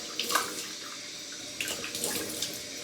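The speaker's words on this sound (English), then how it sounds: "time to rinse with some cold water" Cold water running from a tap for rinsing after a shave with vintage 1930s Brisk mint julep shaving cream, a steady broadband splashing stream with a few brighter spatters, close and moderately loud, no talking.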